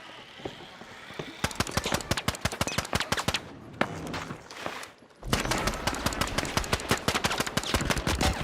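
Rapid automatic gunfire in The Finals, crisp close shots in quick bursts with a short pause midway, then a louder sustained stream of fire, while a player talks in the background.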